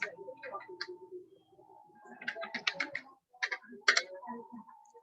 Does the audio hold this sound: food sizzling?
no